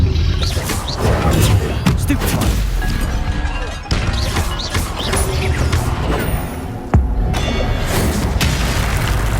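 Spell combat effects in Hogwarts Legacy, including the Stupefy spell: loud booms, crashes and whooshing impacts over dense game noise, with several sharp hits.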